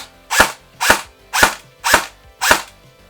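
Five sharp, evenly spaced semi-auto shots from a G&G M14 EBR-L airsoft rifle, each a crisp mechanical crack with a brief tail, loud and close with no talking.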